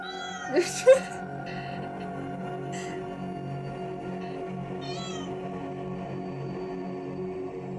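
A pet cat meows twice in quick succession, close and clear, over a steady background of electronic game music and hum.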